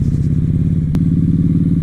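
A 2016 Harley-Davidson Night Rod motorcycle rumbles steadily while riding, its deep pulsing engine note loud and continuous, with a brief sharp click partway through.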